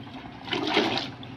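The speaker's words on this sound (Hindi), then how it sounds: "अब मैं इसमें जो है ये चिकन की हड्डियाँ डाल रहा हूँ साफ़ करके।" Cleaned chicken bones plunging into about three litres of water in a stock pot, giving a short, close watery splash and slosh that swells mid-clip and settles, with no voices.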